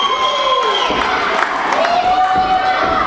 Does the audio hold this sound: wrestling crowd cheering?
yes